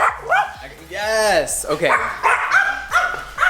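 Several dogs bark and yip in short excited bursts at an indoor home greeting, mixed in with close, lively talking from people nearby.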